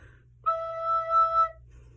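A single sustained recorder note E, the bottom-line E of the treble clef, held steadily for about a second with a soft breathy start, clear and alone over faint low background hum.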